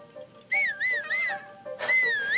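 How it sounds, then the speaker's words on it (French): Player whistling in the Zelda: Breath of the Wild video game: three short rising-and-falling whistled notes followed by a longer warbling one, close and clear over a quiet game background. "Est-ce que vous pensez que si on siffle, il nous remarque?"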